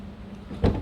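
A single short mechanical clunk from the power door lock actuator of a 2007 Dodge Charger, fairly close and abrupt, after a brief stretch of quiet background.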